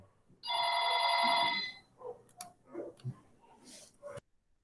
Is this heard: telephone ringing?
yes